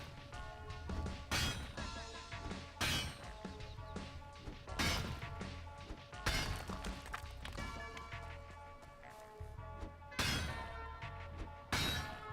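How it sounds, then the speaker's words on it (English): Repeated loud pickaxe blows smashing copper deposits in the video game Valheim, heavy crunching impacts landing every one to two seconds with rattling, shattering debris between them and a faint ringing tone underneath. "Pretty much just smashing up all these copper deposits as much as I can"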